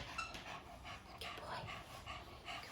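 A Tibetan Terrier pants in quick, steady breaths while having its nails trimmed, close and soft, with faint rustling handling noises around it.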